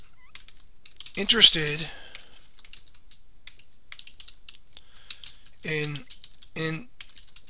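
Soft, quick clicks of typing on a computer keyboard patter steadily throughout, close and light, interrupted by a few short spoken words.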